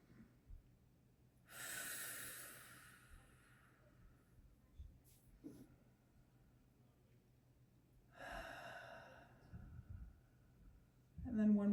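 Slow, deep breaths during a gentle yoga class, two long audible inhales and exhales spaced several seconds apart, close and soft against a quiet room.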